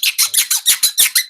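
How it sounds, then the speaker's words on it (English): Rapid run of high, bright squeaks from Becky, about eight short bursts in just over a second, loud and close with no talk over them. "squeaking coming from Becky"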